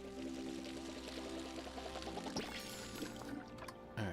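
Plants being watered in the video game Palia give a steady pouring-water effect lasting several seconds over constant game background music.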